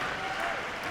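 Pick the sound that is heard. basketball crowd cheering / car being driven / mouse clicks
basketball crowd cheering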